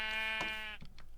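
A Minecraft sheep gives one drawn-out, buzzy bleat with steady harmonics, heard clearly and close, followed by a short tail of softer scuffing game sounds.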